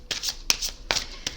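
Tarot cards shuffled by hand in a quick riffling run, with four or five crisp bursts of papery flicking at an uneven rhythm, close and clear with no talk.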